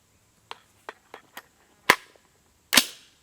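Six sharp rifle shots from a 300 Blackout with a 10.3-inch Ballistic Advantage Hanson barrel firing handloads of Winchester 296 powder, four lighter cracks then two louder, fuller blasts with a short ring, spaced irregularly with no talking.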